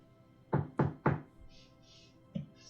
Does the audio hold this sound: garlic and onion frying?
no